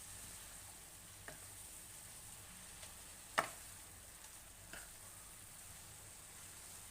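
Fenugreek leaves sautéing in a pan for a dhaba-style methi gravy, a quiet steady sizzle with a few soft clicks of stirring and one sharper tap partway through.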